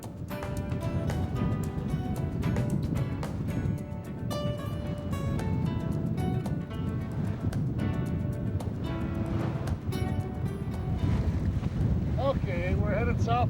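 A sailboat running under a single sail on Lake Michigan near Milwaukee, with steady wind buffeting the microphone and water rushing along the hull throughout, plus scattered creaks and clanks of rigging.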